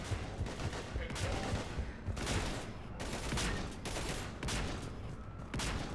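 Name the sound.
gunfire in the video game Mass Effect 3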